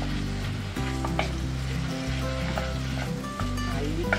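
Ground beef sautéing in a pan for a lasagna-style meat sauce, giving a steady close sizzle and frying crackle with occasional stirring scrapes and small pops throughout, no voices.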